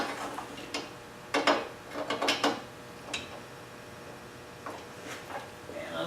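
A weldable bar clamp's tooth locking mechanism is worked by hand, giving scattered sharp metallic clicks and ratcheting taps in small clusters with quiet gaps between them.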